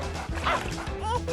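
A puppy yips and barks in short bursts, close and fairly loud, mixed with talk and background music from a lively indoor scene.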